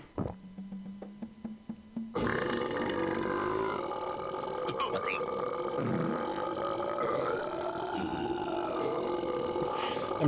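A cartoon character in The Neverhood video game lets out one very long, loud, rumbling burp that goes on for several seconds after a few short clicks, with no talking over it.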